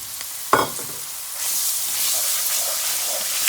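A sweet onion drops into a hot gumbo roux with a sharp thump, then a steady frying sizzle builds and holds, loud and close, with faint stirring underneath and no talking.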